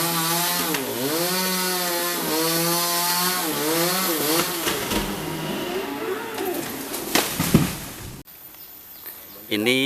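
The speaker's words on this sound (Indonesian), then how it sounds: "Yang dipotong daerah yang ke arah yang mau tumbang dulu" A chainsaw cuts into a large tree being felled outdoors, its engine whining and bogging in repeated rising and falling surges, loud and close, before it cuts out and leaves quieter outdoor background.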